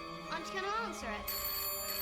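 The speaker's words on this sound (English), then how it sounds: "Phone. Aren't you going to answer it?" A telephone rings in a Doctor Who episode, a steady electronic trill under music and voices throughout.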